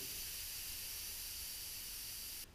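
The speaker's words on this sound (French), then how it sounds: "dévisser la valve et commencer par vider l'air de son pneu" Air hisses steadily out of a moped tire's Presta valve, a close, constant rush that drops off suddenly just before the end.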